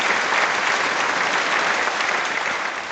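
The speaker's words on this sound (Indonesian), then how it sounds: "Sekarang mari kita berikan tepuk tangan untuk Bapak Chen naik ke panggung." An audience at a ceremony breaks into steady, full applause, many hands clapping loudly and evenly before easing slightly at the end.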